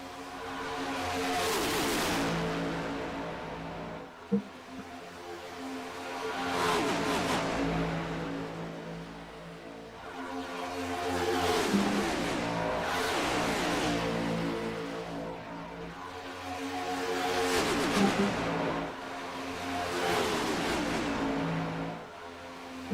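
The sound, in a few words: race car engines roaring in a NASCAR racing video game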